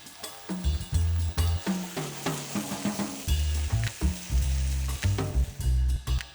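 Roughly minced garlic from two cloves hits a hot frying pan for broccoli and sausage pasta, giving a loud, steady sizzle with repeated stirring scrapes and clatters throughout.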